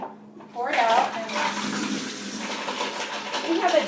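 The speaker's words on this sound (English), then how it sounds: "I'm going to drain it over here at the sink." Broccoli cooking water is poured out into a kitchen sink, starting with a sudden splash and continuing as a steady, loud gushing stream, with a voice faintly audible beneath it.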